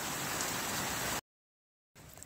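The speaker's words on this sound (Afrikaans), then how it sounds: "As julle iets in die agtergrond hoor, is maar die weer en dit reën lekker hier in Gauteng" Steady rain falls outside in Gauteng as a dense, even hiss. It cuts out abruptly for under a second, then returns slightly softer.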